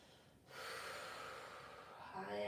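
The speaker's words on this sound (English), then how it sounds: "Just focus here on that ujjayi breath" Ujjayi breathing in a plus-size yoga class: a sustained, hissing breath through a constricted throat, steady and close for about two seconds after a quiet start.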